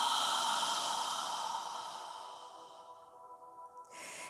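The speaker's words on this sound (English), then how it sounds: "deep exhale." A long, deep exhale during yoga breathing, a steady breathy rush that starts fairly strong and slowly fades over about three seconds, close and alone, with a faint breath at the end.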